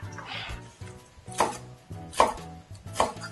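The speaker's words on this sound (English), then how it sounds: "We'll chop this" A knife chops through spinach on a board in a steady series of close cuts, with three sharper, louder strikes landing at roughly regular intervals; no one speaks.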